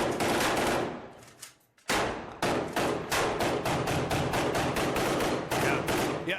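Sustained automatic gunfire from a soldier's weapon fired in Iraq, one long burst followed after a short pause by a rapid, steady string of close, loud shots that run to the end.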